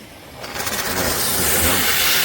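A Kärcher SC 5 EasyFix steam cleaner running at its highest steam setting gives a loud, steady hiss that swells after half a second and holds without a break, with no voices.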